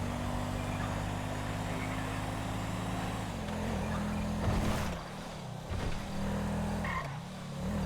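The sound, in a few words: car driving in video game GTA 5 (LSPDFR mod)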